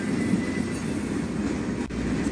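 Union Pacific local freight train shoving in reverse in the Run 8 train simulator, a steady rolling rumble of cars and wheels with faint rail noise, continuous and close.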